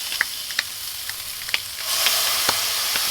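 Plain packet mince with nothing added frying in a hot pan as a burger patty, a steady close sizzle that grows louder and denser partway through, with scattered sharp pops and crackles.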